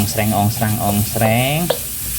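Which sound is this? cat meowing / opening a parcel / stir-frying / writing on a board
stir-frying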